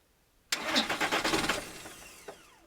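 A car engine turns over right after a snapped cambelt was repaired, a loud sudden burst of rapid rhythmic cranking that slows and fades, followed by a faint knock.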